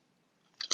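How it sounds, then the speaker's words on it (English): A single crisp crunch of someone biting into dill flavored potato chips, close and brief, rising from near silence. "a big baritone crunch"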